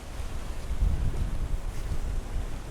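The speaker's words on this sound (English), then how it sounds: "The wind's blowing in my face and the waves" Wind buffets hard against a microphone on a shingle beach, a continuous loud low roar in which the waves rolling onto the stones are largely masked.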